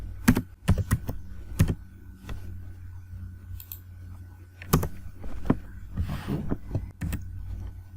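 Typing on a computer keyboard during HTML coding, a sparse run of sharp key clicks in small bursts and single taps with pauses between, close by over a faint low hum.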